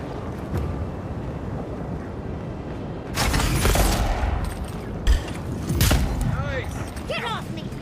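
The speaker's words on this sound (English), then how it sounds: "I'm gonna go shoot people now." Bursts of gunfire and combat noise in the fantasy video game Avowed, loud broadband blasts arriving in a couple of clusters over a steady rumbling background, with a brief sharp crack among them.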